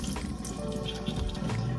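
Cauliflower florets rinsed under a running kitchen tap, water streaming and splashing steadily into the sink at close range, with no talking.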